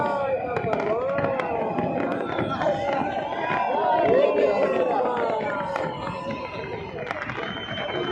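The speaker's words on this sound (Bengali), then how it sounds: "কোটি কোটি মিলিয়ন ডলার বাজি ফুটাচ্ছে।" Fireworks bursting over the Burj Khalifa in Dubai, a dense, continuous barrage of crackles and booms with a loud crowd chattering and cheering throughout, swelling slightly midway.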